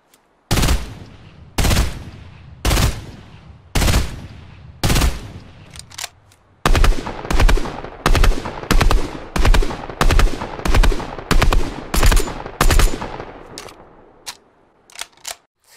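AUG burst rifle firing in Fortnite, loud sharp shots arriving first in five evenly spaced bursts, then a faster, denser run of repeated bursts before tapering off.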